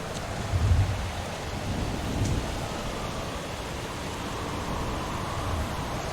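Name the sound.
thunderstorm with rain and thunder, ambient effect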